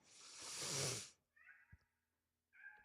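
A cat meows twice in short, clear calls close by, following a louder broadband burst at the start; no talking.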